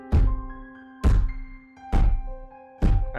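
A voice imitates the heavy footsteps of a giant minotaur. Four deep, booming thumps fall at an even, slow pace, each ringing out briefly. They are loud and close, with no talking between them.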